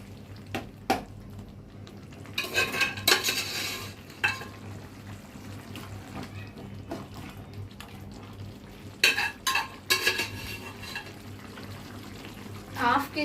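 Mutton goes into a cooking pot for a gravy and gets stirred, with scraping clatters of a spoon against the pot in bursts over a faint background hum, quiet between stirs.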